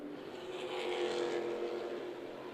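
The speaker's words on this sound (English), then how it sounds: "Racing action at the front of the modified division" Modified division race cars at Myrtle Beach Speedway roar past in a steady, loud engine drone that swells slightly mid-way, with no voices over the pack.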